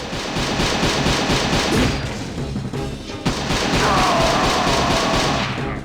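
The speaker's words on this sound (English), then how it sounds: "I want to finish him with a pistol." Pistol shots in Simple 2000 EuroTrip come as a run of sharp, evenly spaced cracks over dense game noise, with a brief lull before the shooting starts again and a faint tonal sweep underneath.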